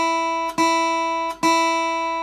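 Guitar open high E string plucked cleanly three times in a slow, even rhythm, each note ringing out bright and sustained until the next pluck, with no talk.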